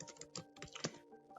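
Rapid clacking of fingers typing on a computer keyboard, with an uneven rhythm of close, crisp key strikes and one sharper hit near the end.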